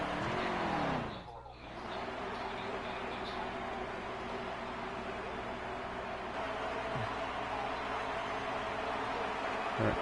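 Race cars circle the Las Vegas track in a video game Outlaw Series playoff race, a steady droning chorus of engines with a brief dip early on, holding at moderate loudness throughout.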